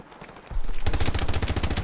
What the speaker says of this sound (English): I've got the machine gunner setting up suppression fire